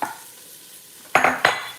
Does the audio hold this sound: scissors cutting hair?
no